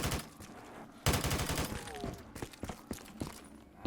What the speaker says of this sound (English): Oh man, I love the Modern Warfare 3 AK. It is so good